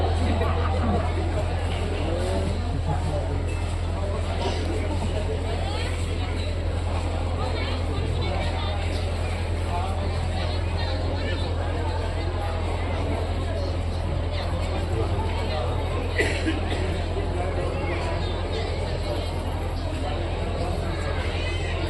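Traffic jam on a road outside Darul Uloom Amjadia madrasa in Kadam Rasul, Kishanganj: a steady, loud wash of crowd babble and many voices over the low rumble of idling and passing cars, continuous throughout.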